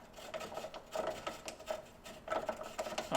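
A thread chaser scrapes and grinds as it is threaded by hand into a suspension bolt hole on an S14/S15, a quiet, close, irregular rasping that comes in short repeated bursts.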